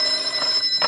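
An old-time telephone bell rings in a vintage radio detective drama, a continuous bright jangling ring that is loud and close and fills the brief moment alone.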